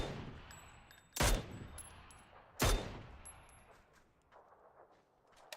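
Video game gunfire: two loud, sharp shots about a second and a half apart, each followed by a short decaying tail, with faint game tones and quieter ambience between them.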